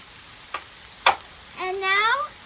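Cheesesteak with maple syrup and melting cheese curds being stirred on a Blackstone griddle, with a steady low sizzle, a couple of sharp spatula scrapes and clicks, and a brief rising squeak.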